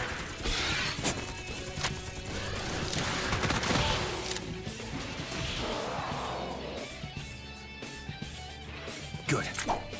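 Rapid bursts of gunfire and crashing impacts in a Raidou Remastered battle, loud and dense throughout, with a voice talking over the fighting.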